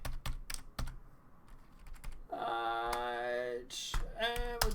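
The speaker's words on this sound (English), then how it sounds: "Let's type a random number." Sharp clicks of computer keyboard typing come in quick bursts at a TV news station, with a drawn-out tonal voice-like hum cutting in midway and near the end.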